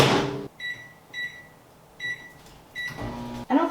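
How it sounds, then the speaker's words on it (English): A microwave oven heating honey butter gives a series of repeated high electronic beeps in short evenly spaced groups, with a clunk of the door at the start and near the end. "I'm gonna put this in the microwave, which is behind the camera, and we're just gonna do it for 10 seconds"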